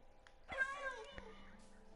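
A short, soft meow from a cat in the Minecraft video game, heard once under a faint voice, close but quiet.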